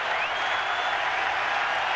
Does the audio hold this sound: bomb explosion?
no